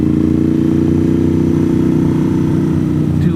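A motorcycle engine runs steadily and loudly while being ridden, a constant close drone with no pauses throughout.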